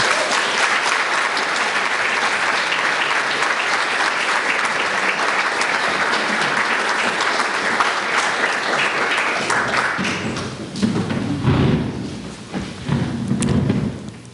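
An audience applauds warmly to welcome a guest at an arts café event, with dense sustained clapping for about ten seconds that thins into scattered claps and thumps at the end.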